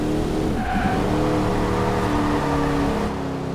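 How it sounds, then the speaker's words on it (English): A Cadillac Escalade's engine drones loudly while its tyres squeal steadily as the driver tries to make it drift, close and sustained for a few seconds. "But I keep attempting to drift"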